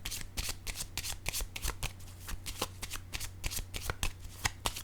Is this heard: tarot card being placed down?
yes